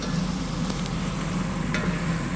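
Curry sizzling steadily in a pan over low heat, a continuous close frying hiss with faint crackles and no talking.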